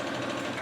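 A sewing machine runs steadily and close while stitching the side seam of a new garment, with a continuous even whir and no talk.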